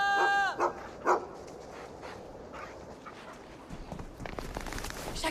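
A dog named Sacha gives a few sharp barks near the start, loud and close, followed by quieter outdoor rustling and faint background noise.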